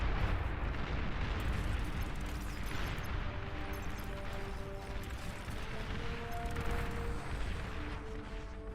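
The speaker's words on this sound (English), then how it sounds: "Ah, fucking artillery." Artillery fire in the real-time strategy game Beyond All Reason, a dense continuous rumble of distant booms and explosions rolling through a massive battle, with steady low thunder and no speech.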